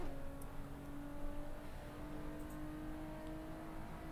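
Racing car engine in the Assetto Corsa sim, driven on a direct-drive wheel, droning steadily and close with a sustained held tone and slight pitch shifts, no voices over it.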